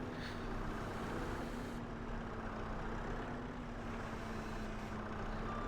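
A skid steer in Farming Simulator 25 works at stone collecting, its engine a steady low drone with a constant tonal hum and broadband rumble, continuous and unbroken with no talk.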